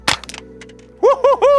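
A single sharp crack of a Ruger 10/22 rifle shot fired off a bag at a target range, followed by quieter rattles and then an excited whooping voice.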